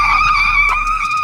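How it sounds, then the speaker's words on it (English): HappyRun G100 Pro e-bike tires skid and squeal under hard braking, making a sustained, steady, high-pitched screech that lasts throughout at close range, with no talking. "we're gonna slam on the brakes, see how much slide we get"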